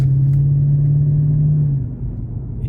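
Mercedes CLK500 with an M113 V8 engine pulling under acceleration, a loud deep droning hum that holds steady from inside the car before easing off near the end.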